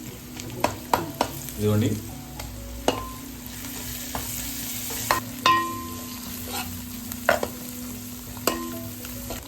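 A tablespoon of freshly ground homemade ginger garlic paste sizzles in hot oil in a pan while a spoon stirs it, with irregular scraping clicks and taps against the metal over a steady frying hiss. One short spoken remark is heard.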